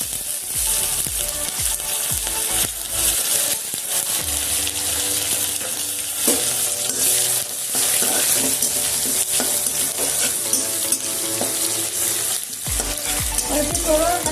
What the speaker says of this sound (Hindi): और अब डालेंगे ये करी पत्ता और प्याज।